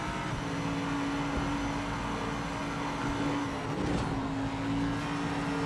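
A race car engine in the Project Motor Racing video game holds a steady roar, with a brief dip and shift in pitch near the end as a gear changes.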